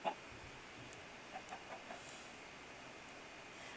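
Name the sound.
chicken clucking in the video game Minecraft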